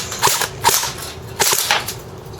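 An ICS Sig 552 airsoft rifle fires BBs in sharp, close, loud snapping shots, grouped in two quick bursts of about three shots each.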